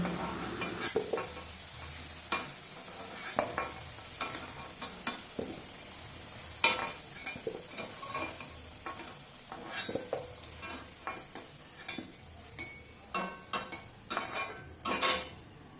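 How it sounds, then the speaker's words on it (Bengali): Potatoes frying in hot oil in a home kitchen, with a steady sizzle under repeated scraping and stirring clinks of a utensil against the pan, fairly close and continuous throughout. "আর একটু সামান্য ভাজতে হবে, তারপরে নামিয়ে দেব।"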